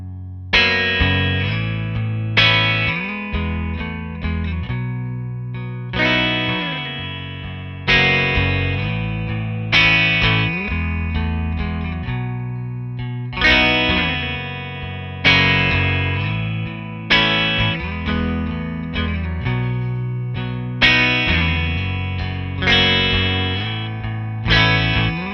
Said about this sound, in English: So here's what it sounds like, just kind of this open F sharp. Obviously playing a Telecaster directly,